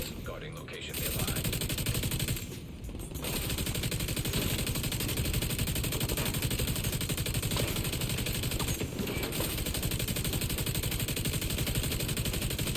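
Sustained automatic fire from a light machine gun in The Division, a dense continuous roar of rapid shots with brief gaps, loud and close.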